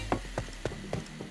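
A weapon reload in PointBlank gives a run of evenly spaced mechanical clicks and ratchet-like snaps, about five in a row, close and moderately loud.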